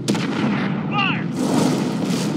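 A heavy gun fires in a video game, a loud rumbling boom with a noisy roar that lasts throughout, broken briefly by a short warbling tone in the middle.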